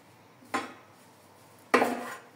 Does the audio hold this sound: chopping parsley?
yes